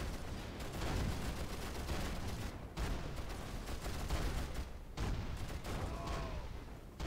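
Dense, continuous gunfire and heavy anti-tank Panzerfaust shots in the Rise of the Reds 1.9 strategy game, with booming blasts over the clatter. The barrage is loud and sustained, with brief lulls.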